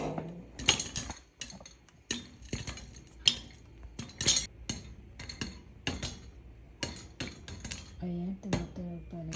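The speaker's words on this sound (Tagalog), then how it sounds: "Ayan, sunod-sunod na yung ingay niya." Popcorn kernels popping in a pot on a home stovetop, sharp irregular cracks and clinks coming in quick succession, close and fairly loud, with a voice talking at times between the pops.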